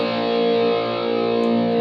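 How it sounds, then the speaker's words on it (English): Distorted electric guitar power chord played at the first fret of the fifth string, from a song: a single steady, sustained gritty chord rings alone at moderate level. "head down to the 1st fret of the 5th string and make a power chord."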